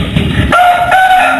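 A South Indian fighting rooster of the Hyderabad grass breed, kept for cockfighting contests in Bengal, gives a single loud, close crow with a strained, rising tone. A rough burst of lower noise comes just before it.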